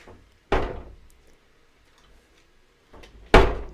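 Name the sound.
door that does not shut being closed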